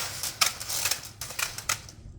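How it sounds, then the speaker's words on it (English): Scissors snip through window screen mesh, guided along the back edge of the frame: a series of crisp, close cuts at an uneven pace, with no talking. "I'm letting the scissors ride right down along the back side of the frame on this side"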